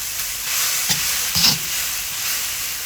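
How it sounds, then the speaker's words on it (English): Rice and prawns fry on a Big Green Egg ceramic grill with a loud, even hiss of sizzling, punctuated by a couple of brief stirring scrapes, with no talking. "You see it now, it's getting less clumpy the more you fry it."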